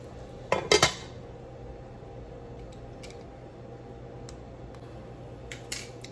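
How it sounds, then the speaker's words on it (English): A lid goes onto a pot of clams: a couple of sharp metallic clanks up close, followed by a low, steady simmering hush and a few faint ticks near the end. "I'm going to put a lid on this and let them open up."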